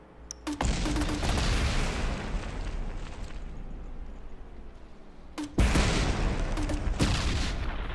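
A rapidly fired grenade launcher in the game From the Depths, a dense, loud barrage of booming blasts and rumbling explosions that rolls on without a break, with a second heavy burst midway.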